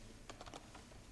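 Typing on a computer keyboard, a quick burst of about five soft key taps followed by a couple of lighter taps, faint and close against a steady background hum.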